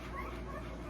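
An eight-day-old runt female bully breed puppy whimpers softly and continuously, close by, in a faint, steady whine with no talking.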